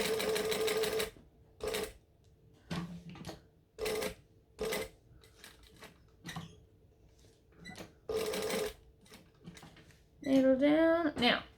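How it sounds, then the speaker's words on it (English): A sewing machine stitches the outer line of a Seductress garment, running in short bursts separated by pauses, close and clear, with a brief voice near the end. "Now we're going to open it and we're going to stitch the outer line."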